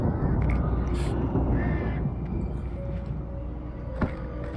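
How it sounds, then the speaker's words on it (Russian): In the video game Alan Wake Remastered, crows caw several times, loud at the start and fading into a dark ambient background rumble, with no voices. "Вороны только меня напрягает, то что там их много летает."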